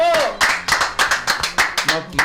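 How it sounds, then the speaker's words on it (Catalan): Applause and cheering from people outside a school, a run of sharp, rhythmic claps at close range, with people talking loudly over and between them. "Per aquí de fora t'estan aplaudint i tot."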